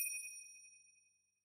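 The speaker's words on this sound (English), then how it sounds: "I just have this chime perk that hits at the 1 and the 5" A bright chime accent in a type beat: a single clear metallic ding with sustained high ringing overtones that fade smoothly over about a second and a half, heard alone.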